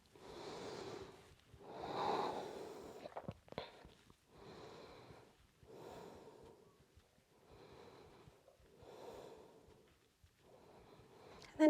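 Slow, audible breaths repeat in a steady rhythm of about six cycles, some with a nasal, snorting edge, while a person holds a high lunge in a vinyasa yoga session; it is close and fairly quiet, with no talking.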